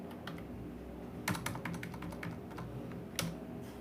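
Someone types a Linux command on a computer keyboard, with quick irregular key clicks and a few heavier strokes, close and clear against a faint background hum and no speech.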